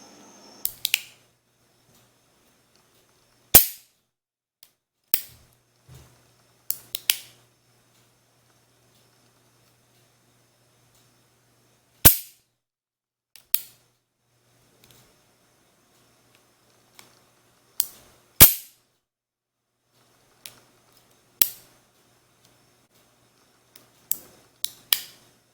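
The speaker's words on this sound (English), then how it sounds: "Now you can listen to the single action." A Rossi .357 Magnum 4-inch revolver is cocked and dry-fired single action, giving scattered crisp metallic clicks and sharper hammer snaps at irregular intervals across a long, otherwise quiet stretch, close and alone.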